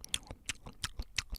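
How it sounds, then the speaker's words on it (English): Someone chewing 5 gum with close, wet smacking bites in an uneven rhythm, about seven chews in a second and a half, with no talking. "he was making chewing noises"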